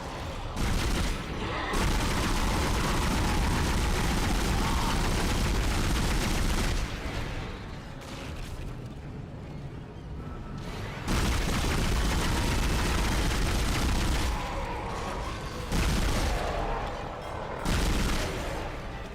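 Bursts of gunfire from the sci-fi horror game Dead Space come in dense, loud volleys lasting several seconds each, separated by short quieter gaps, with no talk over them.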